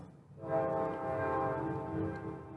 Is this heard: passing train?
yes